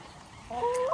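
A rooster crows once, close and fairly loud, its hoarse rising call starting abruptly and holding to the end without any talk.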